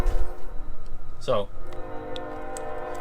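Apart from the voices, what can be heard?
passing trains with horn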